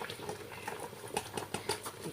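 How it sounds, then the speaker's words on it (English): Canned liquid tomatoes pour into a pot of Nigerian owo/nkwobi sauce made with cow foot and goat foot, giving a soft patter and light splashing with faint clinks, close and steady, with no talk. "let's try to pour in our liquid tomatoes"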